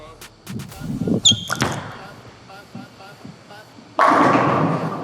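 DV8 Mantra bowling ball thrown down a lane, with a thud as it lands, a long rolling rumble, then a loud, sudden crash of pins near the end, with a voice heard early on.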